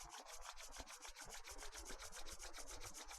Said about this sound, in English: please bring your hands together in front of the chest and rub your palms vigorously